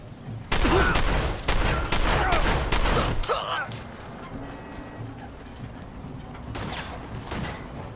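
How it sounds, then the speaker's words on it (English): Gunfire rings out in the video game Fallout 4, a run of loud, sharp shots closely spaced in a burst. Mechanical clanks follow, then quieter ambience with a few distant pops. "Where did that shot come from?"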